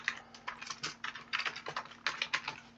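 Someone types quickly on a computer keyboard at close range, producing quiet, irregular bursts of key clicks with short pauses between them.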